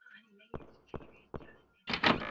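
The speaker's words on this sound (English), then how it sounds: "Helena will unlock the door before entering." Door unlocking and opening in a video game, heard as three evenly spaced sharp mechanical clunks followed by a louder, fuller creak or thud as the door swings, close and clear.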